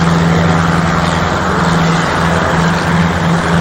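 Schweizer 300 helicopter hovering through a slope landing, a loud, constant engine and rotor drone with a steady low hum filling the whole stretch.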